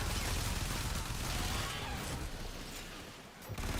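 Gunfire in a video game rattles on in dense, continuous bursts that fill the clip at high volume.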